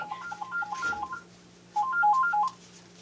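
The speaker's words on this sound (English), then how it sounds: "now my phone's going to ring" A phone sounding a melodic ringtone of quick, evenly spaced beeping notes, two short phrases separated by a gap, fairly close and clear over a faint steady hum.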